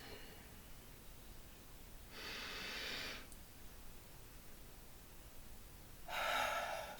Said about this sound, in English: We're going to take another deep breath.